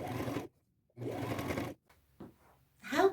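A sewing machine zigzag-stitching around the overlapped edge of an upcycled denim shirt, running in two close bursts of steady whirring separated by a short pause, with softer handling sounds after.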